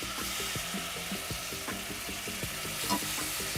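Four pieces of marinated boneless meat sizzle steadily as they sear in a hot pan, with a constant dense crackle and a few brief sharper pops and clinks over it.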